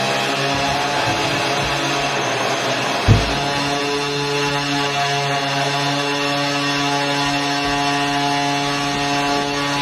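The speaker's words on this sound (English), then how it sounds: "It was tough to know if both engines were running at the same time." Steady, loud buzzing drone of small combat-robot engines running for the Team Whyachi Rumble 15 competition, continuous throughout with a brief thump near the middle.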